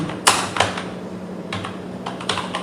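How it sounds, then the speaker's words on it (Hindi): Typing on a computer keyboard, quick bursts of sharp key clicks in a few short clusters, close and clear with quiet gaps between them. "हम यहाँ पर टाइप कर लेते हैं माई न्यू एक्शन"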